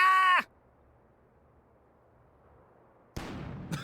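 Cannon firing in the video game The Book of Unwritten Tales: after a short tonal sound and a near-silent pause, a sudden loud, broad blast erupts and rings on.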